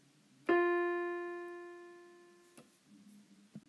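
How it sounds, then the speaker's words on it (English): A single sustained musical note F, the bottom space of the treble clef, rings clearly with bright overtones and slowly fades, followed by a couple of faint clicks. "The open space F sounds like this."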